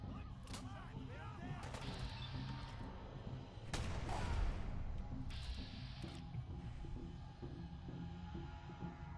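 Turret gunfire in Fallout 4, heavy booming bursts of shots with a low throbbing rumble, loud and repeated over several seconds amid game noise, with a few vocal sounds in between.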